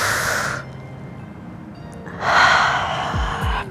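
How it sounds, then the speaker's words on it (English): A deep, audible breath drawn in and let out while holding a front-splits stretch, two broad breathy bursts separated by a quiet pause, close and fairly loud. "Give it one more deep breath in this position."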